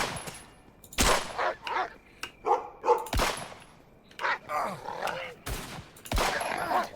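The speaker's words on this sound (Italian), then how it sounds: "Spero che quel cane non lo dovrò uccidere, raga, perché sarebbe un peccato" A wolf dog barks and attacks in the survival game HumanitZ, with sharp repeated barks mixed with gunfire-like bangs, loud and close, over a player's voice talking.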